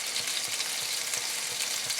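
Tuna steaks sear in a pan with honey and citrus, giving a steady, close, dense sizzle that holds evenly throughout with no voices.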